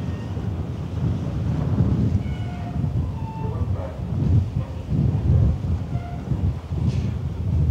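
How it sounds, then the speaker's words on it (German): Wind buffeting a microphone on the open deck of an AIDA cruise ship, a steady low rumble with gusty swells and faint sea wash, no voices over it. "hier ein bisschen Wind"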